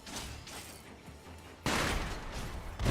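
Enemy shotguns fire in the Sekiro game: a loud blast cuts in abruptly after a stretch of quieter ambient noise, followed by another heavy burst near the end.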